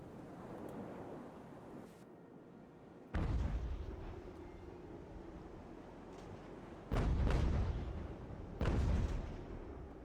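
Naval cannons of a sailing warship fire in a close-range battle in Ultimate Admiral: Age of Sail, several heavy booming blasts spaced apart, each followed by a rumbling decay over quiet ambient sea noise.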